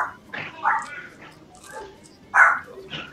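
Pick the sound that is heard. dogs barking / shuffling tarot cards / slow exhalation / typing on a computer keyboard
dogs barking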